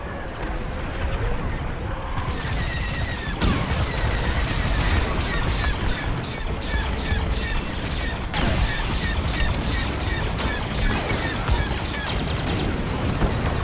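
Laser cannon fire in the space combat game Star Wars: Squadrons, a dense, steady barrage of rapid zapping shots with booming impacts throughout, loud and continuous under battle noise.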